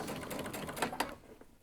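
A sewing machine runs the final seam along a sleeve, stitching on the right side inside the bias binding at 2 mm; a steady mechanical whirr with a few sharper clicks, ending as the machine slows and stops.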